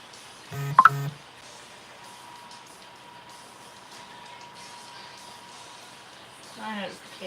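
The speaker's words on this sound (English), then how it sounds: "My notifications are once again yelling at me." Short electronic notification tones sound in a quick burst near the start, with another softer chime toward the end, over faint room noise without speech.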